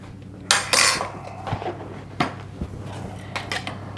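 A spoon stirring MSG into egg and leek pie filling in a tin, with a few sharp metallic clinks and scrapes against the container followed by softer intermittent taps, close and unaccompanied by speech.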